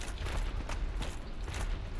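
Dark Souls Remastered door mechanism grinding and creaking in a steady, rattling, ratchet-like churn over low rumble, sounding continuous and fairly close with no voices.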